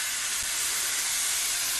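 Hot peppers and onions in a cooking pan release a loud, steady, broadband steam hiss that fills the whole moment without break or talk.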